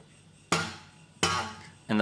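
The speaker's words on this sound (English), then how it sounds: "the part that's hitting into the low E string here is just this little side knuckle part of our thumb" Three sharp percussive thumb slaps on the low E string of a guitar, struck with the side knuckle of the thumb, loud and close with ringing decay, spaced at irregular intervals.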